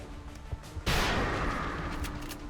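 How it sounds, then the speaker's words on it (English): Rapid-fire gunshots from a soldier's rifle in XCOM: Enemy Within, a sudden loud blast after brief quiet, followed by a sustained rumbling burst that slowly tails off. "I'm going to rapid fire this one."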